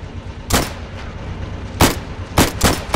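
Rifle shots from plastic army men in the video game Plastic Army Men, four sharp reports spaced unevenly over steady background rumble, with no talking.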